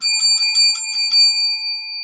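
Small bell rung in a quick series of bright metallic dings, about half a dozen strikes that leave a ringing tone decaying at the end, loud and close with no talk.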